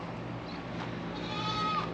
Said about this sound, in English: You hear the goats in the background.